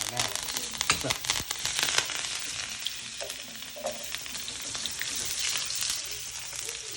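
Butter melting and sizzling in a hot pan beside a ribeye steak, a steady close crackle and hiss with occasional louder pops, no voices.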